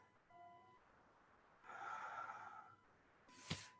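A single slow inhalation through the nose during a gentle yoga flow, soft and close, ending in a short sharp breath sound in an otherwise quiet room.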